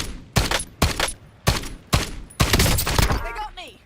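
Rapid bursts of gunfire from a Warzone (Black Ops 6 era) match, five sharp shots spaced evenly, then a denser volley trailing into chirpy game effects, loud and close.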